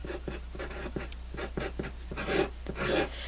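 A hard 5H pencil sketches on paper, giving a dry, scratchy rasp in quick repeated strokes, close and steady with no talking.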